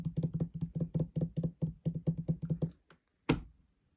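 Fingers drumming rapidly on a desk as a makeshift drum roll, a steady run of close, dry taps for nearly three seconds, then a brief pause and one sharp final hit.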